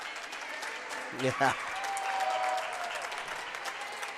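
A small but energetic crowd at a Lawrence High School girls basketball game gives a short burst of applause as a player leaves the court, with scattered clapping and a brief cheer under a commentator's voice.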